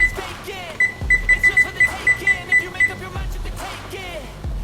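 A kitchen timer beeps in a run of about nine short, evenly spaced tones, with talk and kitchen noise around it.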